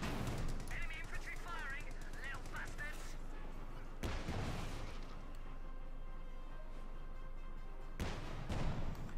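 Bursts of automatic gunfire and rattling machine-gun volleys from Company of Heroes 2 battles, heard as dense, continuous combat noise with sharp loud cracks near the middle and end, while a commentator talks over it.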